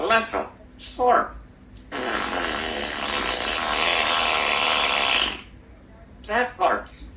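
Smart speaker playing a long synthetic fart, a dense buzzy blast lasting about three seconds, loud and close, with children's voices chattering before and after it.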